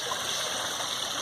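Water flows steadily in a backyard stream, a close, continuous rushing babble with no pauses.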